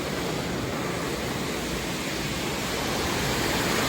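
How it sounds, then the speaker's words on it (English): A yarn spinning frame runs inside a spinnery in Putney, Vermont, giving a dense, continuous mechanical whoosh that fills the room at a steady level with no pauses. "our spinning frame, which is the machine that's making all the noise this morning"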